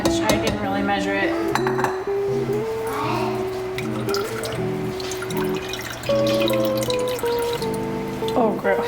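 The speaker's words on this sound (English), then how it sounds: "I'm gonna pour all the liquid back in." Liquid from cooked jalapeno peppers being poured back into a metal pot for pepper jelly, with dripping, splashing and clinks of pot and utensils close by over a steady background hum.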